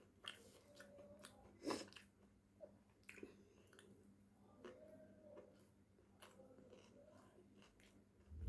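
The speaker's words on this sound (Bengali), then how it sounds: "ডিম খাচ্ছি।" Soft, close chewing of an egg omelette during a meal of rice, vegetables and dal, with faint wet mouth sounds and occasional crunchy bites over a quiet background.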